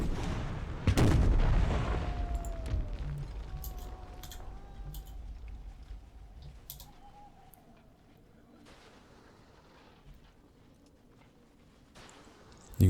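Troops fire in battle in Empire: Total War, opening with a loud booming volley that fades into a long, rumbling decay. Scattered distant shots and faint whistles of shot flying overhead follow.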